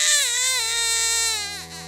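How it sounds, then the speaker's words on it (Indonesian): A baby wails loudly and continuously in a horror story, one long sustained cry with wavering pitch, close and alone with no talk over it. "aku dengar adekku nangis kencang banget."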